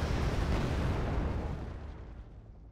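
A heavy tank gun blast in Wargame: Red Dragon destroying an ASU, a loud broadband boom that rolls and fades out over a couple of seconds.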